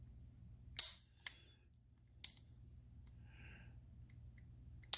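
Dry-firing a CZ P-01 pistol gives sharp, crisp trigger clicks, three close and quiet in the first half, with a soft mechanical scrape between and another click at the end.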